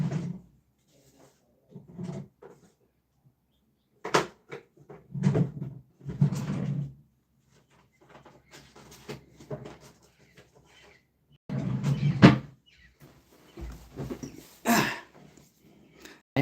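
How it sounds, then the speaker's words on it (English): Several wooden knocks and thumps as a drawer is opened and closed. They come in uneven clusters with quiet gaps between them and sound fairly close by. "I'm going to go ahead and put these in my drawer."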